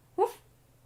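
A single short bark or woof from Hope the dog, brief and fairly soft, close to the listener over a quiet room.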